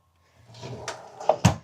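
A small drawer in a 2026 Entegra Accolade XL Super C motorhome slides and bumps shut, giving a soft scrape followed by two close wooden knocks near the end.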